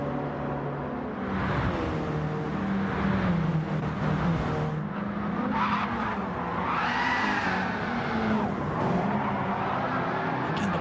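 Race cars sliding into turn one at Suzuka, engines droning loud and steady while tires squeal and skid through the corner, pitch rising and falling as the cars pass.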